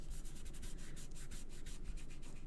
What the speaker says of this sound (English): rubbing that until I can't see the glue through it